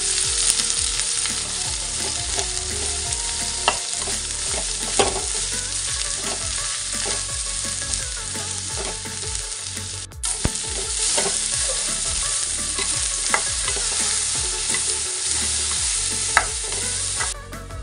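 Chopped okra fries in a pan with red chili powder and spice mix, sizzling steadily and loudly while a spoon stirs and scrapes in regular strokes, with no talk.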